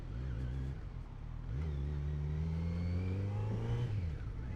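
A 2020 Kawasaki Z900 motorcycle engine rides in sixth gear on a Mumbai test ride. It holds a steady drone that dips briefly and then climbs smoothly as the bike accelerates, close and continuous.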